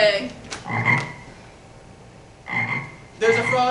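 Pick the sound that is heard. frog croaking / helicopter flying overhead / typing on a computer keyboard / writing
frog croaking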